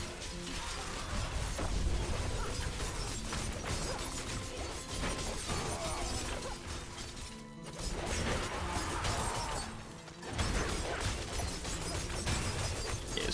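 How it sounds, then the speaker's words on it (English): Heavy crashing and grinding game combat in Diablo 4 plays loud and nearly continuous, with two brief dips near the middle, as big enemies unleash ice slam attacks against a Puncture Rogue fighting Elias at level 60. "I think it's an ice slam."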